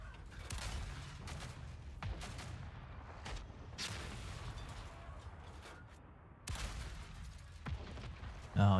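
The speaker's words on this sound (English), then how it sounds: "You stop shooting me with a minigun." Gunfire in the tank game World of Tanks arrives as scattered sharp shots and short bursts at a moderate distance, with a louder blast near the end and quiet stretches between.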